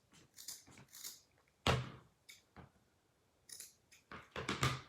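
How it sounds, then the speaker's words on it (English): Scissors snip the uneven edges of a wood bead tassel, a handful of crisp, close cuts spaced irregularly in a quiet room, with a quick cluster of snips toward the end. "Now I'm going to just trim up the edges a little bit, just to make it a little bit neater"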